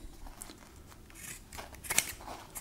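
Leatherman Raptor rescue shears snipping through denim jeans, a few soft crunchy cuts close by, faint and uneven, with one brighter snip near the end.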